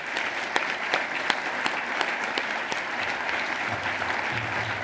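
Audience at a 2013 media awards presentation applauding a winner, dense sustained clapping with a few louder claps standing out, filling the whole stretch.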